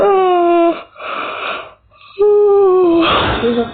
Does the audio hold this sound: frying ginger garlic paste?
no